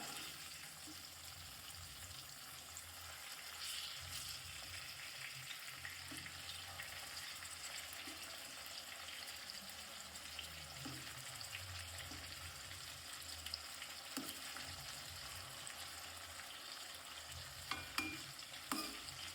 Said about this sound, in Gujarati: જો મિત્રો, ટામેટા ડુંગળી કમ્પ્લીટલી ફ્રાય થવાની તૈયારી છે.